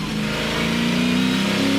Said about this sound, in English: you can actually hear the roar of a mighty V8 engine as he gives it everything he can